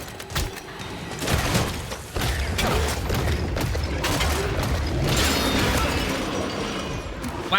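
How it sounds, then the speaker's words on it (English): A Fleshpound monster from the Killing Floor 3 video game approaches down a hallway, heavy mechanical grinding and creaking with booming thuds, dense and loud throughout amid gunfire-like game noise. "Oh, flesh pound coming down this hallway."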